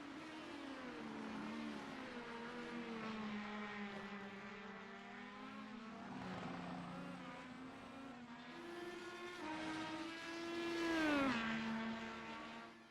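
An IndyCar race car at Mid-Ohio in the Vision Corsa racing game, its high-revving engine whining steadily with pitch rising and falling through gear changes, swelling louder near the end, heard alone at low level.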